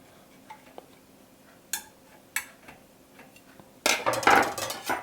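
A knife cuts a piece of rhubarb cake in its baking pan, giving a few sharp scrapes and clicks followed by a louder, sustained scraping and crunching close by, with no talking.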